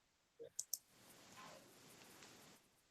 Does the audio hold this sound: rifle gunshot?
no